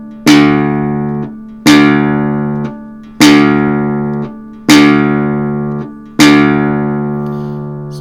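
Low E string plucked five times, at regular intervals, on a 1905 Gustav Keller romantic guitar with a baritone scale length; each note rings bright and loud, then decays before the next, close and solo.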